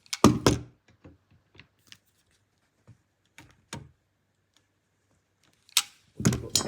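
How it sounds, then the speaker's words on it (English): Pliers twisting a metal clip into place on a rusty front bumper of a Mercedes R107 SL, giving a few sharp close clicks and knocks separated by quiet gaps, with a louder cluster of scraping clatter near the end. "So what I usually do is put the pliers on the other side and just twist it round"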